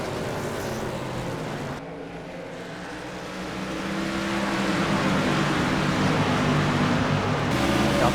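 Race cars at New Hampshire roar past in a continuous loud engine drone that builds as the pack draws nearer. A Hooters Chevy and the number 46 car are in the field. No voices sound over the engines.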